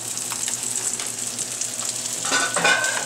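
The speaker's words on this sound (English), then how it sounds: "And we'll put the next 2 schnitzels in the pan" Schnitzels frying in olive oil in a pan, a steady close sizzle with crackling spatter that swells louder as fresh meat goes in near the end.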